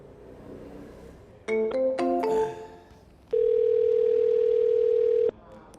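Sharp tones on a phone line after a call drops, then a steady, loud, continuous dial tone holding for about two seconds, with faint background noise around it.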